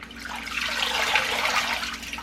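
Washed greens drip and trickle in a kitchen sink, a close, bright, continuous patter of falling water.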